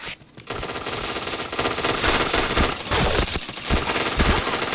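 Rapid automatic gunfire in a Point Blank first-person shooter game, dense bursts of machine-gun shots firing almost continuously after a brief quiet start, loud and close with no talking.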